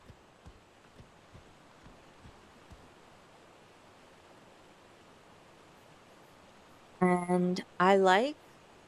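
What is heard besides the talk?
ambient waterfall in a video game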